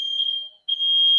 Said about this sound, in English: my alarm went off